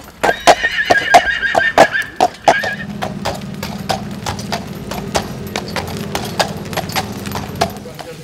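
A draft horse walks on hard ground in Dieue-sur-Meuse, its hoofbeats a regular clip-clop throughout. A whinny runs over the first couple of seconds, then a low, steady hum sits under the continuing steps.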